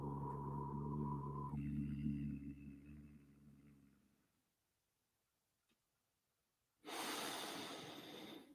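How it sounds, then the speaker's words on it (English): Controlled breathing in a breath practice comes close and slow, one long drawn breath easing off into silence, then a fresh breath starts abruptly after a pause. "Control your breathing."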